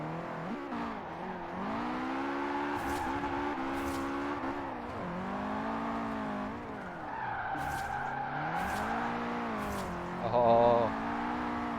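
V8 drift car in Forza Horizon 4, engine revving in repeated rising and falling pulls with brief tire squeals, steady and moderately loud, with occasional talk over it.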